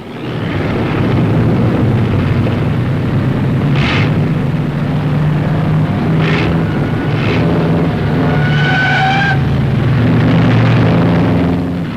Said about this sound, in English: Looks like Taylor ran out of gas, and he blew a tire in that skid.